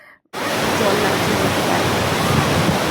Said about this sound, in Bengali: মনে হচ্ছিল পুরো গোল্ডেন কালারের একটা ঝর্ণা